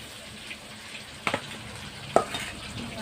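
Fish frying in hot oil in a home kitchen gives a soft, steady sizzle, with two brief clatters of a utensil stirring or touching the pan, and no talk.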